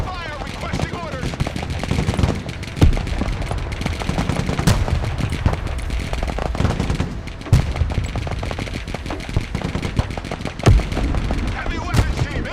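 Gunfire and artillery from the Broken Arrow video game, a US Army campaign battle: dense, continuous volleys of rifle and machine gun fire with heavier booming blasts punching through every few seconds, loud and close, with voices calling out over the combat.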